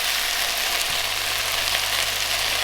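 Beef fries and browns in a pan with a dense, loud, continuous sizzle heard close up, without talk.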